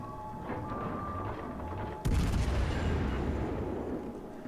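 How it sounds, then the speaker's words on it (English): Destroyer guns fire in the World of Warships Legends naval game, a sharp boom that cuts in halfway and rumbles on over a continuous background of battle noise. "He's shooting with a destroyer there"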